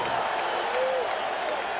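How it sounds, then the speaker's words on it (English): A baseball crowd at a Mets home game during the 1986 World Series Game 6 against the Red Sox roars and applauds in a dense, steady wash of cheering with a broadcaster's voice faintly underneath. "This crowd has reason to cheer."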